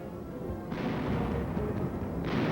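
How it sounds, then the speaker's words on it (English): Battlefield artillery fire in World War II rumbles as a dense, sustained roar, with heavy booms swelling twice against a continuous low thunder. "with tank and artillery fire blazing behind them"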